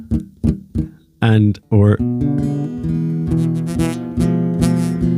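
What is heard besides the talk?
crackling guitar strings from not pressing frets hard enough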